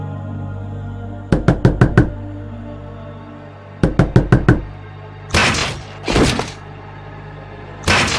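Knuckles rap on a door in quick bursts of four or five knocks, loud and close, followed by a few heavier thuds and one more single blow, with no voices.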